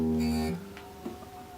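A single plucked guitar E note rings out briefly and quickly fades, leaving a faint lingering hum.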